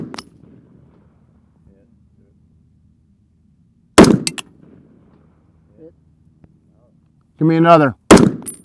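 Gunfire on an outdoor range during a three-day rifle and pistol class in Dallas, Texas: a sharp shot at about four seconds and another near the end, separated by quiet stretches, with an instructor's voice calling out between them.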